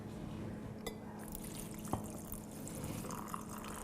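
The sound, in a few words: water poured into jars of vegetables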